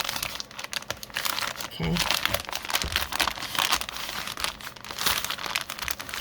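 Brown Amazon packaging paper is folded and creased for a soft cover journal, producing close, busy crinkling and crumpling with sharp rustles, while a person speaks briefly over it.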